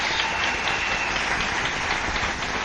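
A church congregation applauds the Lord Jesus during worship: steady, dense clapping from many hands fills the room throughout, loud and sustained without a break.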